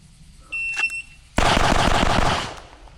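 At an outdoor shooting range, a chronograph gives a short electronic beep, then a loud, sharp burst of gunfire cracks out close by and rings off into a fading echo.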